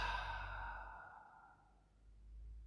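A long, slow exhale through the mouth during a Yin Yoga session, a close, breathy sigh that fades out gradually over a couple of seconds in a quiet room.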